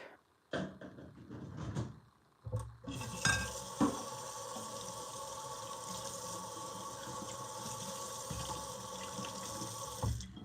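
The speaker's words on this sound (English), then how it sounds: "Y'all are washing dishes with me today." Dishes being washed under a running kitchen tap, a steady hiss of water flowing into a sink with clinks and handling knocks, continuous and fairly close after a few brief clatters at the start.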